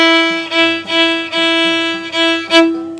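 A single violin note bowed on the D string with the first finger down, sustained over several steady, even bow strokes, close and clear with no voices.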